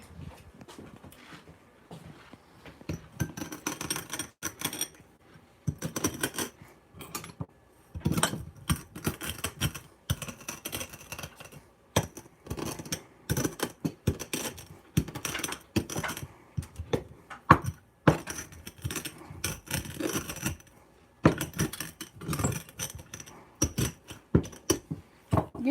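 Spices being crushed with the side of a glass, a run of sharp irregular tapping and grinding knocks in quick clusters with short pauses, close and fairly loud, with no talking over it.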